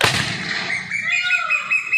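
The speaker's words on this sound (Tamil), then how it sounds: "வாங்க அங்கே வெடித்து காட்டுறேன்." A homemade monkey repellent device fires one loud sharp blast that opens the clip, then a ringing, whistling tail fades slowly across the remaining seconds.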